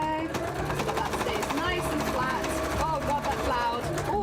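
A sewing machine runs steadily, top stitching through multiple layers of fabric for a cosplay piece, loud and close with a continuous mechanical whir and rapid needle rhythm, while a person talks over it.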